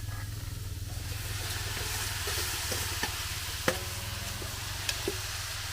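Freshwater shrimp sizzle steadily in a hot pan while being stirred and sautéed for spicy coconut-milk shrimp with banana heart, with a few sharp utensil clinks over a constant low frying hiss.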